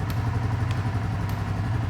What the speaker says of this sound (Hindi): आइडियल कंडीशन पर इंजन साउंड सुनो